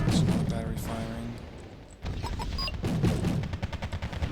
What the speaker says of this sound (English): That's another battery firing